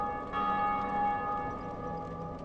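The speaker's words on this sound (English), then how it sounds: "someone just rang the bell" A church-style bell tolls in the Dark Souls game, one ringing strike with a long, shimmering metallic hum that sustains evenly and slowly fades, heard alone and at moderate distance.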